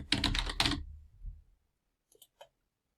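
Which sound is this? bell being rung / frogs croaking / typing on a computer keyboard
typing on a computer keyboard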